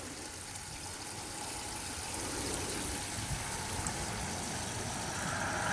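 Water gushes steadily from an outlet pipe into a dug hole, a dense continuous rushing wash that grows slightly louder partway through, with no voices.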